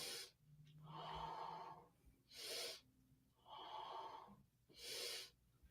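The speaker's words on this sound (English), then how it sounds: "This is indeed Lamaze breathing, Johnny Blaze" Rhythmic patterned breathing in the Lamaze style, done during a yoga pose: long breathy exhales alternate with short sharp inhales, two full cycles, close and fairly quiet with no talk.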